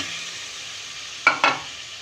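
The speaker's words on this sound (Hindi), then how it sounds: "अब इसमें मैं ये आलू डाल दूँगी जो मैंने काट के रखे थे" Cut potatoes tumbling into hot fried spice masala for aloo tahiri, with a steady broadband sizzle throughout and two sharp bursts of hissing and clatter as the pieces land in the pan.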